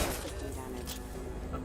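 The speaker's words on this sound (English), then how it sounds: "He's shooting the crate" Rapid gunfire at a crate in the video game Mass Effect: Legendary Edition, a quick burst of dull shots mixed under continuous talking, moderately loud and close.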